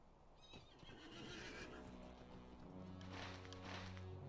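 A horse whinnies in the Lord of the Rings Online video game, a drawn-out neigh over a steady bed of in-game ambience, with faint hoof clip-clops mixed in. The sound is fairly quiet.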